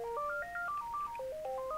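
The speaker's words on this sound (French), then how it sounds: "Oh merde, le téléphone." A telephone ringtone plays a quick melodic run of clean electronic beeps stepping up and down in pitch, fairly soft and steady, with no talking.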